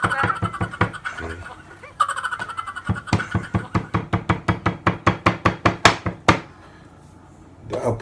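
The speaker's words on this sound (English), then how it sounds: "the other side of the knife. See that? There. Yeah, which is used to pound the beef, the slice of the beef." Back of a knife pounding a slice of beef for Filipino bistek, a fast run of sharp rhythmic thuds that speeds up and then stops, with brief talk at the start.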